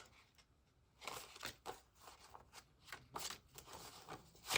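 Paper cash bills pulled from envelopes and counted by hand, a close series of soft crisp flicks and rustles in an uneven rhythm, with no talk.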